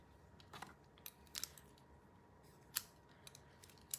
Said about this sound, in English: Going to cut a bit of this ruffled ribbon.